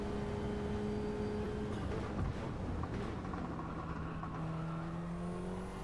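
Subaru BRZ race car heard from the onboard seat during a GTCQ race at St. Croix, a steady engine drone that drops under braking and then rises again, with rumbling road noise and no talk.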